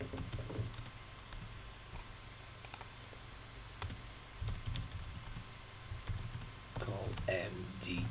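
Rapid computer keyboard typing with clustered bursts of key clicks and short pauses, close and moderately loud, as code for a submit button is entered during a Ransack gem date-range search tutorial; faint low background hum.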